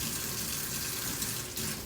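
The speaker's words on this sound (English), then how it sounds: "I'm gonna wash my strainer again because we're gonna put the clean beets in those" Water from a tap runs steadily as a strainer is rinsed in a kitchen during beet prep for canning, a close and continuous splashing rush throughout.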